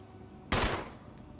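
A single sharp gunshot in the video game Resident Evil HD Remaster, a loud abrupt crack with a short decaying tail, alone against a quiet background.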